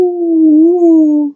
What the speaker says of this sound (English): A trumpet and a singing dog.